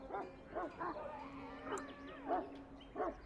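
A Mabari war hound in the castle kitchens of Dragon Age: Origins barks and yips several times at a moderate distance, with whining, howl-like pitch glides between the barks.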